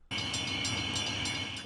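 A train rushes close past in a public service announcement scene, a loud, steady roar with rail rumble and high metallic hiss that starts abruptly and holds at full strength.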